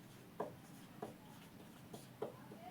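A pen writes out an equation on paper, a faint nearby scratching heard as four or five short separate strokes in quiet surroundings.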